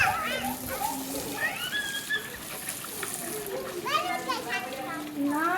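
Children splash and play in bathwater, with chirpy kids' voices and shrieks over a steady wash of water sloshing close by.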